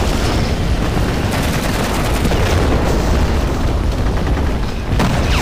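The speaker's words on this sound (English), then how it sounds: "Two German rocket pods are opening up on me" German Land Mattress rocket artillery explodes in a war video game set around Küstrin: a dense, continuous barrage of loud booms and blasts with sharp cracks and rumbling impacts. No one speaks.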